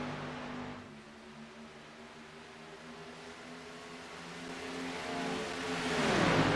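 Ford race truck engine on an oval track, a steady mid-pitched drone that builds as the truck approaches and ends in a rising rush, heard alone.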